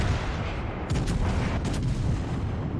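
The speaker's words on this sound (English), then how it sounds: "his front guns are going to be coming around and he'll be able to shoot them immediately" Warship front guns firing in World of Warships Legends, loud booming artillery blasts, several heavy shots rolling one into another over a constant rumble, with no voices.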